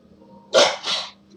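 A dog gives two quick barks, loud and close, back to back with a short gap, against a quiet room.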